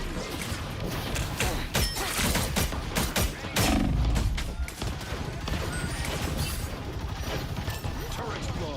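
Busy gunfire and explosions as a turret is blown up in the video game Marvel Rivals: crashing impacts and rapid shots, with a heavier blast at about four seconds, and players talking over the action.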